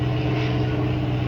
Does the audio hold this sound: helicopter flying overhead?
yes